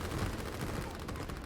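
Artillery firing in the Line War strategy video game: a faint, dense, continuous crackle of rapid distant shots blending into a muffled volley, with no voices.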